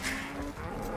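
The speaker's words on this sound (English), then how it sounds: "This is my cow." A cartoonish cow moos in the video game Age of Empires II, a short low, tonal bellow, quiet and close against faint game background.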